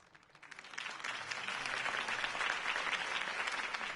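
Steady crowd applause fills a campaign rally in a Batman game, swelling from a light start into sustained, dense clapping that holds to the end.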